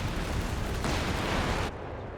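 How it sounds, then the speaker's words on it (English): Walking Stuka rocket artillery barrage pounding a position in Company of Heroes 3, a dense roaring wash of blasts that swells then abruptly drops off, loud and continuous with no talking. "the allies are getting blasted by this artillery like crazy now that Walking Stuka's back"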